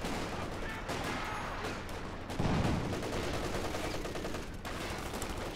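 Sustained gunfire from a Company of Heroes 2 battle, with bursts of rattling shots and heavier impacts piling up close and loud, a thicker blast near the middle, continuous throughout.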